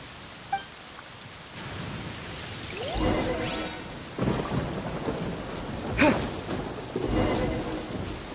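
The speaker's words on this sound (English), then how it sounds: "Uh-oh! Lightning storm!" Thunderstorm in the video game Genshin Impact: steady rain hiss runs throughout while several loud thunder cracks and rolling rumbles break in, with one sharp nearby strike standing out.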